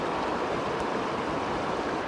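Running water of a cold mountain stream out in the wild, a steady broadband rush that stays even and continuous throughout, close by and with no voices.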